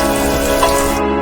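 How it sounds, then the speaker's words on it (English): Onions fry in a pan with a steady, close sizzle that holds evenly through a short moment. "I'm going to let my onions fry for a while"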